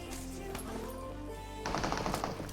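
Faint bursts of rapid gunfire from PUBG on the Erangel map, a quick rattling volley near the end of the clip over a low background hum.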